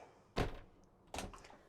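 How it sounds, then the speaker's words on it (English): Bathroom door inside a 2025 Rapido 696F motorhome being pushed shut, two distinct close knocks about a second apart, the first a firmer thud and the second a lighter clack with a brief rattle, alone in a quiet interior. "well, we can shut the door"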